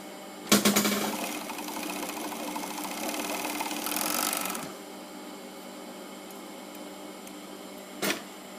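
An industrial overlock sewing machine (serger) runs in a fast whirring burst for about four seconds, then stops, leaving a quiet hum with one short clack near the end.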